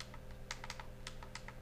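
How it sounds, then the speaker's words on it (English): Touchpad buttons on an ASUS EeePC 900 netbook click in quick succession, about a dozen sharp plastic clicks close up over a low steady hum. "The right click is a little bit easier to push down than the left one"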